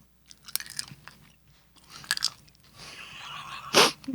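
Pop Rocks candy eaten with a chocolate bar crackles and pops in the mouth amid close chewing and crunching, with scattered sharp snaps and a louder burst near the end.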